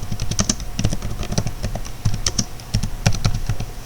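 Steady typing on a computer keyboard as a comment is entered, irregular clusters of crisp key taps close to the microphone, continuing for several seconds with no talking.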